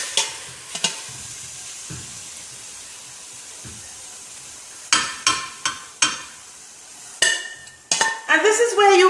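Sautéed vegetables scooped from a pan into a greased pie dish: scattered clinks and scrapes of a utensil against cookware, a few sharp taps, and a soft background hiss.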